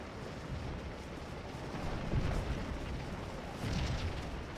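Artillery fires canister shot in a Civil War battle in the strategy game Scourge of War, heard as a continuous low, rumbling roar of distant booms that swell at a couple of moments.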